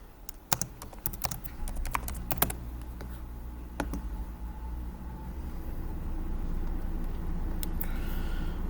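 Typing on a computer keyboard, a quick burst of sharp key clicks near the start, then a few scattered taps over a low steady hum, close and fairly quiet.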